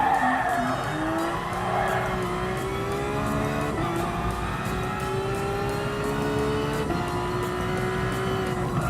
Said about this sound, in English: Okay, there's the Porsche cars.